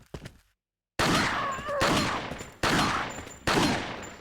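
Gunshots in the Resident Evil 4 video game crack out sharply and loudly, four spaced blasts that each ring and decay, after a brief burst of scuffling sounds and a silent gap.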